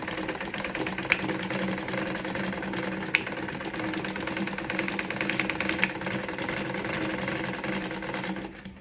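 A Victoria Deltmod model 235 German sewing machine runs continuously with a steady, fast mechanical chatter and hum, close and even, with a few faint clicks, ending abruptly.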